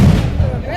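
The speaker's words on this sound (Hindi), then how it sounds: "सर, तीसरे राउंड में ही पटाखे जलने शुरू हो गए हैं" Firecrackers bursting at an election victory celebration in Khunti, a dense crackling barrage of loud pops close by, continuous and rough.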